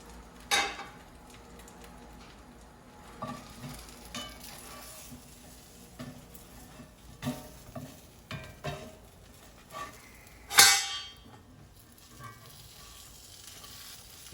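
Grilled cheese sandwich sizzles softly in a pan, a quiet, steady fry broken by scattered scrapes and clicks of a utensil, with one sharper clatter partway through.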